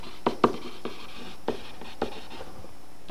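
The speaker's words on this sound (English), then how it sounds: "let's write that down" Pen or marker writing on a board or paper during a trigonometry lesson, a few distinct close taps and short scratching strokes at an uneven pace with no talk.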